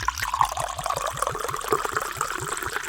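Liquid poured old-fashioned style glugs rhythmically from a bottle, a regular series of close, bubbling gulps and a steady trickle running for several seconds.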